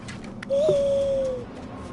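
An owl in the prehistoric video game Far Cry Primal gives a single smooth hooting call lasting under a second, clear and fairly close above a low ambient game backdrop.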